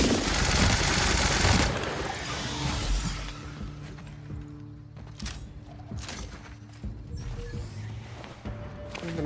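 Gunfire in The Outer Worlds opens with a dense, loud burst of rapid automatic shots, then gives way to scattered single cracks and impacts over a lower hum.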